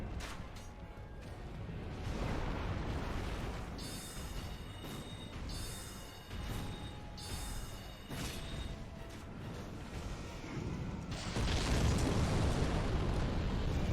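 Bomb landing and exploding in the Dark Souls video game: loud, rumbling blasts roll through the scene, swelling and fading in several waves before a heavier burst near the end.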